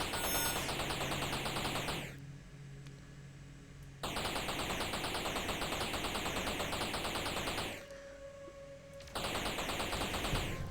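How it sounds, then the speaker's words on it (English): Rapid, rhythmic bursts of gunfire from the player's ship in a blocky video game, loud and repeated in long stretches broken by two short pauses. "Now let's start firing straight away."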